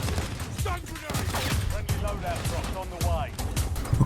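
Enemy gunfire in the Warzone battle royale game, several bursts of shots crackling across a busy, noisy mix with speech and other game sounds layered over it.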